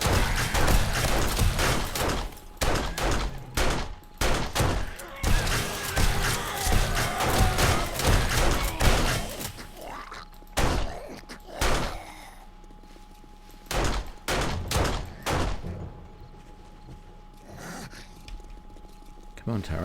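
Automatic turrets in 7 Days to Die fire dense bursts of rapid gunfire with thuds for about ten seconds, then sparser single shots and pauses, loud and close.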